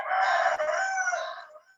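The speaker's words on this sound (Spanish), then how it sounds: "cantó el gallo" A rooster gives one long, clear crow, fairly close and loud, rising and then trailing off with no voices over it.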